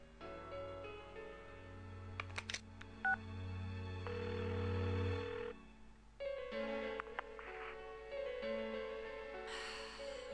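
A quick series of short phone keypad dialing beeps in the video game Persona 4 plays over a quiet background hum, followed by a steady tone and a few more electronic chirps, with no speech.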